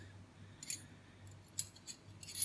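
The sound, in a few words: wire stripper being handled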